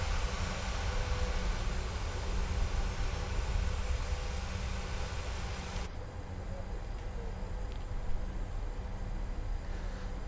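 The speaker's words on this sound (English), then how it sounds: "Oh, we are actually taxiing up a hill." A PMDG 737 taxis uphill in Microsoft Flight Simulator 2020, its steady broadband engine rumble and hiss droning continuously, with the upper hiss dropping away partway through while the low rumble carries on.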